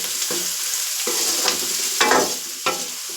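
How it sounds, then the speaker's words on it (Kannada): Three medium onions fry in a hot pan for a village-style okra gojju, a steady sizzle running throughout with bursts of louder crackling and stirring every second or so. "ಈರುಳ್ಳಿನ ನೋಡಿ ಹಿಂಗೆ ಫ್ರೈ ಮಾಡ್ಕೊಬೇಕು."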